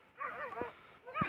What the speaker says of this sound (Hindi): ये आप देख रहे होंगे नीचे वो लोमड़ी दौड़ रही है एक, और उसके पीछे कुत्ते दौड़ रहे हैं